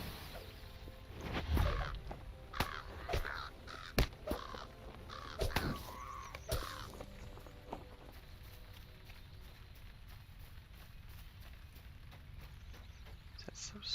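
Harsh crow caws in the fantasy game Lord of the Rings Online, several calls in the first half over steady game ambience, with light footstep-like thuds, fading to quieter background by the end.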